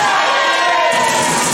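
Wrestler Stixx gets bashed into the turnbuckle during a caged match, a dull impact buried under loud, constant crowd roar and cheering with no clear separate thud.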